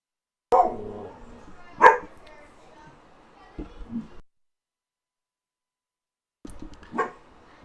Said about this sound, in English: my dog, my dog's barking